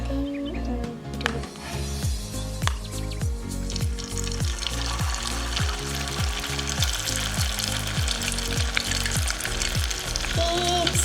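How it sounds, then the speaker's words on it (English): Oil sizzles and crackles steadily as potato egg sticks fry close by, a continuous bubbling hiss with occasional sharper pops and no talking. "now we need to put the sticks into oil"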